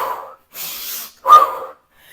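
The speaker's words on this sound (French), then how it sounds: "Comme ça pourrait être 2 inspires et un seul expire." Breathing exercise in a live workout session: two separate breathy inhales followed by one stronger, louder exhale, close to the mic with short silent gaps between.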